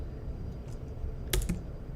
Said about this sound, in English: I'm literally going through A, B, C, D, and I'm just typing the first letter to see what comes up.